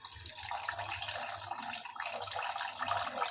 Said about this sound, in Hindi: मैं यही पानी डाल रही हूँ